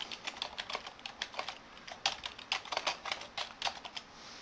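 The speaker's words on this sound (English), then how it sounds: "All I need to do now is to type in some text" Rapid, uneven clatter of keys being typed on a computer keyboard, a steady run of sharp close taps with short pauses and no voices.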